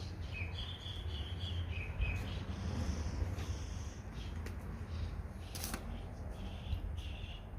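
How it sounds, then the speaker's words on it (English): Several birds chirping and twittering together outdoors, light high calls scattered over steady low background noise, moderately faint, with no talking. "All the birds to get together and have a symphony."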